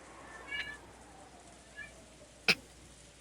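Cat meows from the Umineko visual novel: two soft mews early on, then a sharper, louder meow near the end and a brief final chirp, set against a quiet background hiss.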